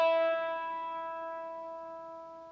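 A single acoustic guitar string sounding an E note in a beginner tuning demonstration, one clear plucked tone ringing out alone and slowly fading.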